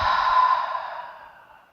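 A long, breathy exhale through the mouth during a yoga cleansing breath, close and clear, starting strong and fading steadily to silence over under two seconds.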